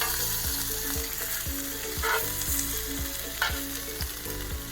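A ribeye steak fries in homemade butter with lots of herbs and spices, cooked in the Victorian High Country: steady, loud, close sizzling and crackling with a regular underlying pulse throughout.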